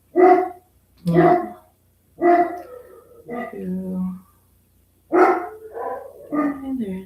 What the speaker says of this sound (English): Oh, there's my dogs.